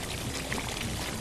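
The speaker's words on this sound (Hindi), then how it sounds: "मैं शोरबे का पानी इसमें डालूंगी" Hot broth water pouring into chicken kurma in a pan, a short, steady splashing gush heard up close, with no talking.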